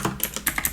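Arrow keys on a computer keyboard are pressed in a quick run of sharp, close clicks, about six or seven taps in under a second, with no voices.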